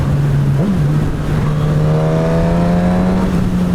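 A 2019 Suzuki GSX-S1000 motorcycle engine pulls hard under acceleration, a loud steady drone that rises slightly in pitch with a faint whine, close and continuous with no talk.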